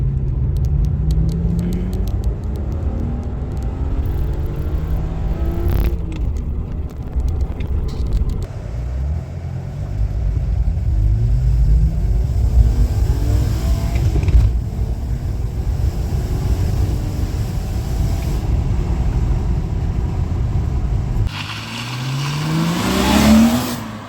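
A car accelerates hard up to 110 km/h, its engine rising in pitch through several gear changes over roaring road and wind noise, close and loud, with no talk.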